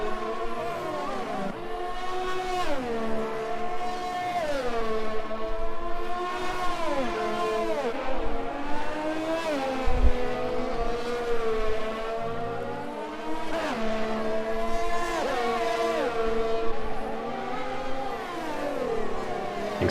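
A Williams Formula 1 car in a video game races at Circuit Gilles Villeneuve, Canada. Its high, whining engine climbs repeatedly, then drops sharply at each gear change, a loud rhythmic series of upshifts that continues throughout.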